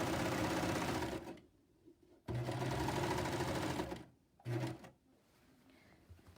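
A sewing machine stitches the underarm seam of an Islander shirt in two long, loud runs and a short final burst, with quiet pauses between them.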